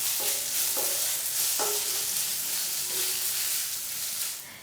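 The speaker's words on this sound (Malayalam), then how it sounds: "പച്ചമുളകും നമ്മുടെ ഇഞ്ചി വെളുത്തുള്ളി പേസ്റ്റും കൂടി ചേർത്ത് കൊടുത്തിട്ട് വീണ്ടും ഒന്ന് വഴറ്റി കൊടുക്കുകയാണ്" Green chili and ginger-garlic paste sauté in a pan over medium flame for an egg curry, giving a continuous close sizzling hiss with a few light scrapes of stirring that fades slightly at the end.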